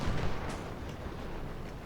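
Cannon artillery fire rumbles through a battle in Ultimate General: Civil War, a dense low boom-heavy wash of distant guns with a few sharper bursts, steady and continuous throughout.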